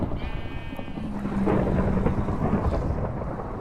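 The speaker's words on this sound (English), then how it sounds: "It's a thunderstorm, so we should sleep." A Minecraft thunderstorm rumbles with heavy rain hissing steadily throughout, low thunder swelling midway and holding loud and close, with no talking.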